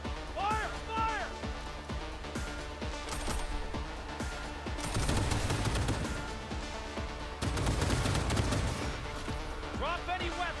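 Gunfire from the Cyberpunk 2077 game: close, loud bursts of automatic weapons fire in dense volleys, heaviest in the middle of the clip, with shouting voices over the top.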